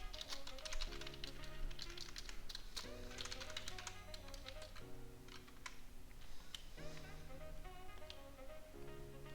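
Keys clatter on a computer keyboard while code is typed, a quiet run of irregular taps and clicks over soft background music tones.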